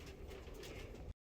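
Young pigeons in a loft cooing, soft low murmuring coos from several birds close by, steady and faint, stopping abruptly.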